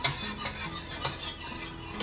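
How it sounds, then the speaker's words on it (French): A spoon keeps stirring butter-free lemon curd in a saucepan over low heat, making close, rhythmic scraping and swishing against the pan with no talking. "Ne jamais cesser de remuer."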